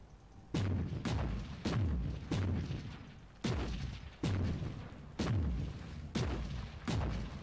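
Autocannon gun turrets fire in a video game, about ten heavy booming shots at uneven intervals, some paired closely, each with a deep thud that rings out briefly before the next.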